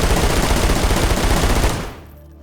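Continuous loud automatic gunfire rattles through a wall in the survival shooter DayZ, a dense rapid burst lasting about two seconds before cutting off abruptly.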